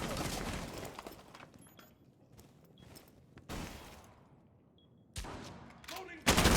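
Gunfire erupts in a Rainbow Six Siege match: bursts of shots and sharp loud cracks separated by quieter stretches, with a heavy burst near the end and commentary voices underneath.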